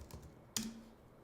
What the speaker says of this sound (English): And then I will be typing Robin here.